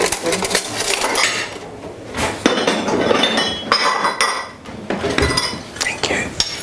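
A utensil clinks and scrapes against a dish while stirring strawberries with a splash of brandy, giving irregular metallic taps and rattles that recur for several seconds at close range.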